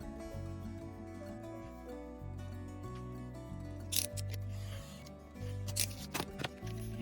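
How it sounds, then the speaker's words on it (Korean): Scissors cut across the top of a handmade paper envelope, giving a couple of brief crisp snips over continuous soft background music. "그리고 봉투 윗면은 한 3cm 정도로 잘라주면 될 것 같아요"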